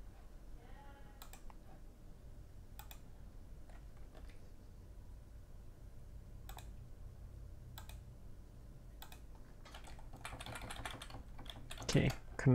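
Sparse keyboard key presses and mouse clicks while playing Dwarf Fortress, arriving as isolated sharp taps spread across a quiet stretch, with a denser flurry of clicks near the end.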